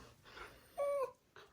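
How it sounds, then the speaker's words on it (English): A dog wanting to go outside to play whimpers indoors, soft breathy sounds followed by one clear, drawn-out high whine and a faint trailing whimper, close and quiet. "So my dog is crying."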